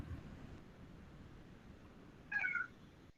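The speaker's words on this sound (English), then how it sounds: "Oh, my cat wants to say hi." A pet cat named Coco lets out one short meow partway through, fairly faint against a quiet indoor background hiss.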